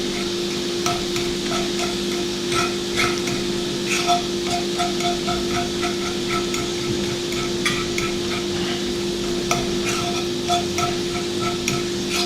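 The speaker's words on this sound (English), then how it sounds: "Start cooking the meat up." Ground meat being stirred and broken up with a fork in a pan, repeated light scraping taps over a steady low sizzle and hum, close and continuous.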